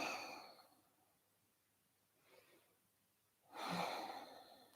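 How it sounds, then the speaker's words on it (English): Deep breathing during an evening yoga class at home, with hands raised overhead: a long exhale at the start, a faint soft breath in the middle, and a fuller audible breath near the end, all close and quiet. "Taking 3 deep life-affirming breaths here."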